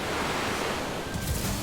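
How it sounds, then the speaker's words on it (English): Rough ocean surf dotted with white caps, a steady broadband roar of breaking waves mixed with wind rushing across the microphone, loud and continuous throughout. "The ocean roars and is alive with white caps."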